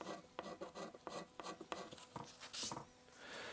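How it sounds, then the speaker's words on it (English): Paint being scraped off an old wooden stool down to bare wood, heard as a series of close, rhythmic rasping strokes at a fairly quiet level with brief pauses between them. "After about 15 minutes of scraping, I am getting it clean here"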